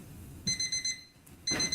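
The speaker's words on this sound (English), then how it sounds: "my wacky watch plays an alarm" A wristwatch alarm in The Amazing Digital Dating Sim chirps in a fast burst of four high electronic beeps, pauses, then starts another burst, loud and close.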